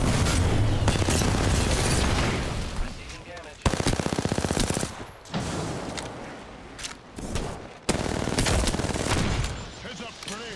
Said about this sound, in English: I'm getting shot.